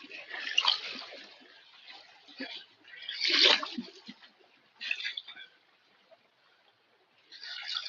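Water sloshing and splashing in bursts as a creek running high is crossed outdoors on a fishing trip, uneven surges of spray rising and fading, fairly close, with short quiet gaps between.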